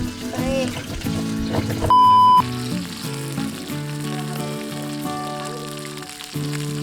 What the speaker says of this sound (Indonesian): penggorengan belut sama ikan.